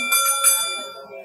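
A boxing ring bell rings out at a professional bout, two bright metallic strikes close together, then a fading ring that lingers with faint crowd murmur beneath.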